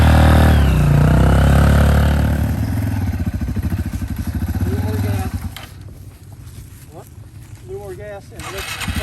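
A dirt bike engine idles and chugs low as the clutch is eased out, loud and close at first, then the engine fades under a person talking.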